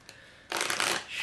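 Voyager Tarot cards riffle shuffled close up: a faint tap, then a half-second burst of dense, crisp fluttering as the cards interleave, with no talking.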